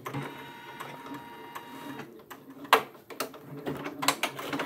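A Janome embroidery machine stitches a quilt-in-the-hoop appliqué, a busy mechanical rattle and whir of the needle with sharp clicks and ticks as the hoop moves, fairly close and with nobody speaking.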